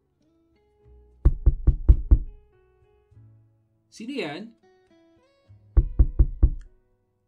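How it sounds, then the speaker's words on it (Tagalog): Two bursts of five quick, loud raps on a door at night, spaced apart, with a single short spoken question from inside between them. "biglang may kumakatok sa pintuan"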